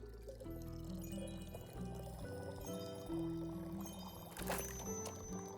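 Drink being poured while tending a bar in a video game, a steady glugging pour close by under a low musical hum, with a brief louder splash near the end.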